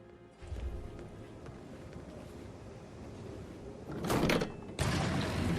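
A hidden door in Hitman 3 slides open onto a secret passage: low ambient rumble, then a grinding scrape swelling near the end and a second sharp burst of mechanical noise, with no talking.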